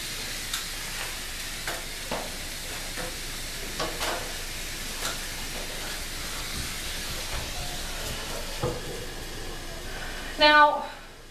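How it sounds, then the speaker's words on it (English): Rented wallpaper removal steamer running with a steady broad hiss, joined by faint scattered taps and knocks, then a brief louder rush and sputter near the end. "So we are going to get right to the wallpaper steaming"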